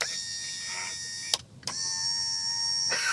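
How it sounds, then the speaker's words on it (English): A Chrysler Pacifica front power window motor whirs in two close, steady runs separated by a short abrupt break, a thin electric hum with sharp clicks at each start and stop. "As you can see, at first the motor wasn't moving, and then without being under any load, it's almost like tapping on a starter or tapping on an electric motor."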